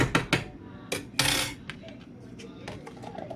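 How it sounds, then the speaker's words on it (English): Lid fitted onto an instant noodle container of Vifon Kim Chee flavor noodles, a few sharp clicks and light taps of plastic up close, with faint knocks trailing off afterward. "Lid it. Wow, it fits right on top."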